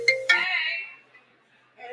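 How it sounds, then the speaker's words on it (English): A phone rings as a sound effect during a live dramatic reading. Two quick bright chime tones ring out close and clear and fade over about a second, and a softer tone returns at the end. "Her phone rings."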